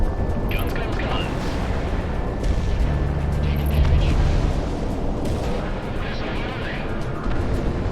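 Aircraft cannon fire rattles in rapid, rumbling bursts during a Project Wingman jet combat game, heavy and continuous under a loud roar of engines and explosions, with a voice speaking over parts of it.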